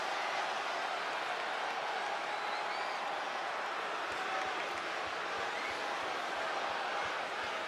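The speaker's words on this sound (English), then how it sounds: "And this crowd is buzzing over that." A wrestling arena crowd in the WWE 2K25 video game buzzes as a steady, dense wash of murmuring and cheering, continuous and even in level throughout with no single voice standing out.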